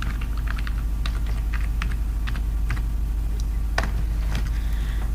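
A city name is typed on a computer keyboard as a run of quick, light key clicks in short irregular bursts, heard up close over a steady low hum.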